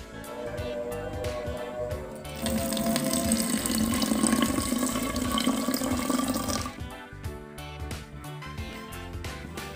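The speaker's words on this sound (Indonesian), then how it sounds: "dan kemudian kita isi dengan air" Water pours steadily into a bottle that already holds yeast and sugar, a loud continuous rushing splash that builds for a few seconds and then tapers off, with clinking and handling noises before and after.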